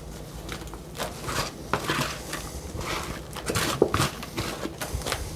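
Garden seeds sprinkled by hand into a container, a fine irregular patter of small grains landing in quick scattered bursts, close and fairly quiet, with light rustling and clinks throughout.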